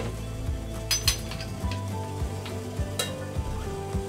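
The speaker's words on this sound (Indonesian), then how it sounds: "Sudah air mendidih seperti ini, kita masukkan bobanya." Tapioca boba pearls dropped into boiling water in a pot, with a steady bubbling sizzle, repeated soft pops and a few metallic clinks of a utensil against the pan.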